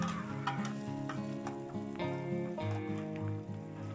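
Garlic, chili and carrots fry in a pan with a close, steady sizzle, broken by periodic scrapes and clicks of stirring.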